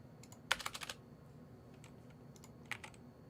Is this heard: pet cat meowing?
no